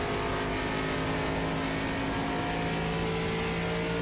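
Race car in the iRacing video game's ARCA Series at Homestead Motor Speedway, coasting off throttle. A steady, continuous engine drone holds an even pitch throughout without a rev surge.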